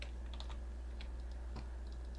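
Quick, light keystrokes on a computer keyboard, several short clusters of taps over a steady low hum, close and fairly faint, with no voices.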